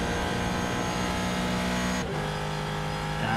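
A Ford GT3 race car in a racing video game screams past under steady high engine whine, its pitch dropping sharply as it goes by, with a second car's note rising near the end.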